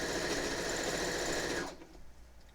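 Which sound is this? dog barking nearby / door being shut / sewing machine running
sewing machine running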